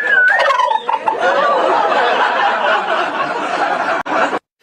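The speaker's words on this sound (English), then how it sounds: "Want to give us a gobble?" A live turkey at the presidential Turkey Pardon gobbles loudly and close up, one long rippling call that trails into a sustained warbling rattle before cutting off.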